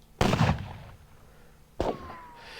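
Gunfire in a Renaissance battle wargame set at Ravenna 1512: two separate heavy booming shots over a second apart, each with a short fading tail, nothing spoken.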